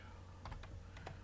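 Several quick keystrokes on a new computer keyboard clatter in a short uneven burst over a steady low electrical hum, close and fairly quiet.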